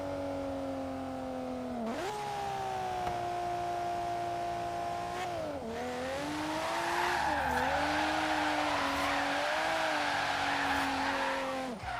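A four-wheel-drive car in the racing game Forza Horizon 3 drones at steady revs, with engine pitch dropping and rising through gear changes and a stretch of tire squeal as it slides, moderately loud and alone.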